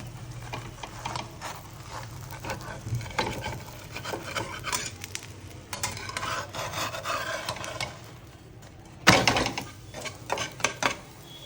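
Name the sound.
flipping Gujarati handvo in a pan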